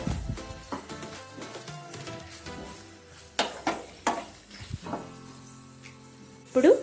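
A spoon stirs garam masala and other spices into an okra curry in a pan, with scraping strokes and sharp metallic clinks against the pan over a faint sizzle, close and moderately loud.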